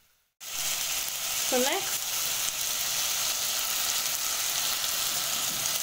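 Potatoes hitting a hot pan while sautéing, sending up a loud, steady sizzle that starts abruptly and holds throughout, with a brief spoken phrase near the start.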